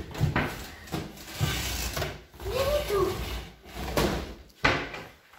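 Drawers and cupboard doors are pulled open and pushed shut during a search, giving repeated wooden thumps and slides every second or so, close by, with brief short-spoken lines between them.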